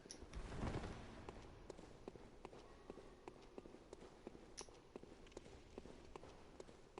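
Footsteps in the video game Bloodborne: a steady run of sharp, evenly spaced steps, moderately close, over a dark hollow ambience with a brief louder rumble near the start and no talking.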